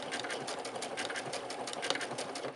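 A sewing machine runs in a steady rapid rhythm, stitching fabric with the needle passing beside the blade, a close, even mechanical whir.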